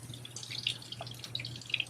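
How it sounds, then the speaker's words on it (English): Water running from a tap during collection of a postharvest water sample: a soft, continuous splash and trickle with small drips, moderately quiet and steady, over a low hum, with no voices. "we'll let the water run for about 30 seconds"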